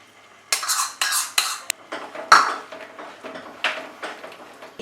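A metal spoon scraping and clinking against a pan while whisked yogurt goes in for Kolkata-style chicken rezala, several close, uneven bursts of scraping and tapping with a sharper knock in the middle.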